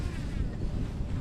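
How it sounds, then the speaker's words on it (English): Wind buffeting out on open water during a kayak fishing tournament, a steady low roar of gusts and rushing air close to the microphone, with no voices. "We've got a nice little breeze. It's going to get windier"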